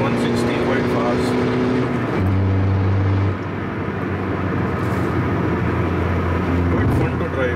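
A stock-ish car accelerating on the road, engine drone climbing in pitch through a gear change and rising again, loud and close with steady road and wind roar throughout.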